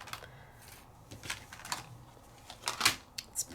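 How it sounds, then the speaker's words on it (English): A die cutting machine cutting paper shapes gives quiet, irregular clicks and crisp mechanical taps, sparse and close, with no talk over them. "let's start just by die cutting some of these"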